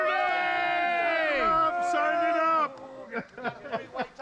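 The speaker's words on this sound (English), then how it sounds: "We were all just shouting for Dustin's trike" A crowd at a shovel-themed fun festival shouts and whoops together for a trike on the lawn, a long sustained roar of many voices that breaks into separate yells and cheers toward the end.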